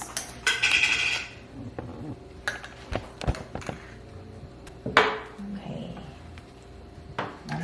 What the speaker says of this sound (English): we're going to just chop our little veggies that we have here